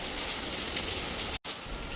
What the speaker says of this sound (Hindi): बैकग्राउंड नॉइस थोड़ा बढ़ गया होगा, बारिश बहुत धुएंधार हो रही है मुंबई में।